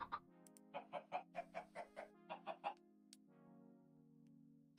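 Small chickens in the Minecraft video game cluck in a quick run of about a dozen short, evenly spaced notes, clear and close over a steady low background hum, then fall quiet.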